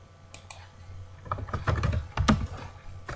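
A web address is typed on a computer keyboard in a quick, irregular burst of key clicks that grows busier and louder midway, close and clear with no talking.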